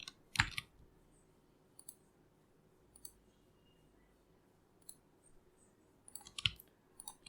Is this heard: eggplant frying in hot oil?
no